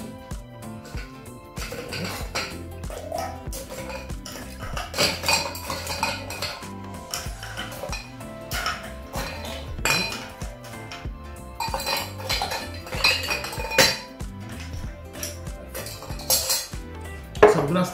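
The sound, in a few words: ice cubes filling and stirring in cocktail mixing glass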